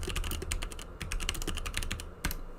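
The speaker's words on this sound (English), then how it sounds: "Don't mind the typing." Rapid clicking of keys on a computer keyboard, typed in uneven bursts with short pauses, close and fairly quiet against a low room hum.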